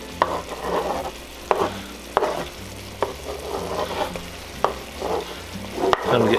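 Kielbasa being stirred into extra lean ground beef frying in a pot for Texas cowboy stew, with a steady sizzle broken by repeated scraping stirs at a roughly even pace, close and clear.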